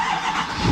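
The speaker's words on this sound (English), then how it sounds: "let's see if she wants to fire up for us" Old truck engine cranking and catching as it fires up, a loud, rough burst that swells toward the end of a very short moment.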